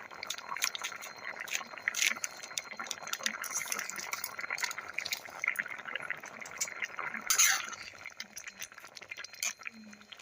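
Lobia and methi sabzi simmering in a pan on medium flame gives a steady, close bubbling hiss with soft pops and crackles, continuous over a low background and no speech.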